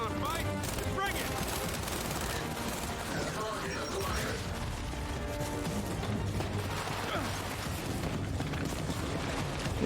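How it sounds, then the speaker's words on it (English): Rapid gunfire and mechanical weapon clatter in the video game Gears 5, dense bursts of shots layered with game effects and a background score, continuous throughout at moderate loudness. "Where are they shooting at down here?"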